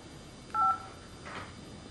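A small child presses buttons on a mother's phone, producing a single short two-tone keypad beep around the middle of a quiet room, followed by faint soft shuffling.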